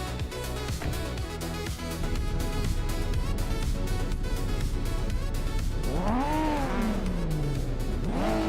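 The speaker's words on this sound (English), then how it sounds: "the race is kicking off at Circuit Paul Armagnac" Race cars in a video game engine roar at a race start at Circuit Paul Armagnac, with a Mazda RX-7 Turbo among the field: a loud, dense engine drone with rising and falling revs near the end, over a steady bed of game music.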